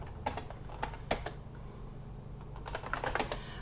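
Keys clatter in quick bursts on a computer keyboard as a DOS delete command is entered on a virtual Packard Bell Legend 822CD, with steady close clicking, brief pauses and a low hum underneath.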